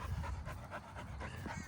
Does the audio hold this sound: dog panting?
yes